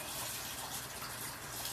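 Water gushes steadily into a pot of fingerling potatoes, a continuous close-up splashing rush that fills the whole short moment.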